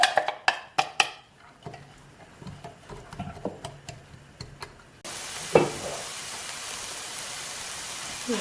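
Chopped onion and a garlic clove hit hot olive oil in a pan; a few knocks and taps first, then a sudden steady, loud sizzle that continues to the end.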